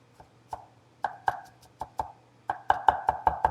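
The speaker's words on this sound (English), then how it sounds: "We're going to get this over here and chop it up good" A knife chopping a Vidalia onion on a cutting board, steady close thumps that speed up into a quick rhythmic run toward the end.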